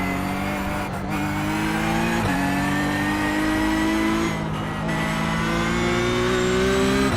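A Porsche Cup race car revs hard in the iRacing sim at Summit Point, its engine climbing steadily through the gears with sharp upshifts breaking the rising whine, loud and close with no talk over it.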